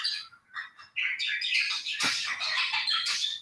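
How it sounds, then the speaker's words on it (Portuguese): Pet birds chirp and sing in a busy, continuous high twittering, close and fairly loud, with overlapping calls and no talk. "Os passarinhos estão cantando"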